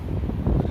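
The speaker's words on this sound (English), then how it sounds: "That gust was pretty big." A gust of wind outdoors: low, heavy buffeting rumble against the microphone, steady and loud throughout, with no voices.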